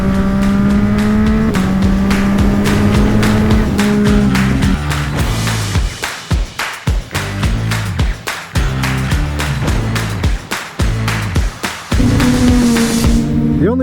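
A group of about five motorcycles, including a Yamaha cruiser, a Yamaha MT-09, a Ducati Scrambler and a custom Ducati, rev and pull away together, loud engines rising and shifting through gears, then several throttle blips and a renewed surge.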